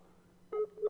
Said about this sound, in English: It sounds like the Skype connection is ringing.